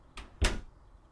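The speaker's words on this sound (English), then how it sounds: "I opened the door and walked out into the hallway." A door opens in the video game Bohemian Killing, with a soft latch click followed by a louder thump as it swings, brief and close.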